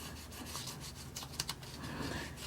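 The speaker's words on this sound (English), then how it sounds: "I'm just going to use the little tool that comes with it. And I want to rub it along the edges of my heart here." A small ink blending tool rubbed along paper edges, producing soft, quiet scratchy strokes in a steady back-and-forth rhythm, close and faint, with a couple of brief sharper scrapes.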